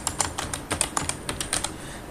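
Keys on a computer keyboard are typed in quick, uneven bursts of sharp close clicks, fairly loud and with no voice over them.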